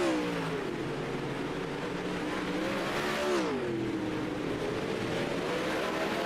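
360 sprint cars circling on warm-up laps at Kern County, a steady loud engine drone with rising and falling pitch as cars pass, one car sweeping by close around the middle, no talk.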